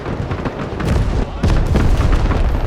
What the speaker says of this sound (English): Our freshly dropped off supplies just got detonated.